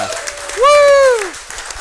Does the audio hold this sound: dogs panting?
no